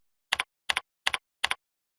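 Fingers type on a computer keyboard: four crisp double clicks, close and evenly spaced, with silence between them.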